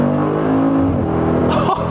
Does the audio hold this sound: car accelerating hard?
yes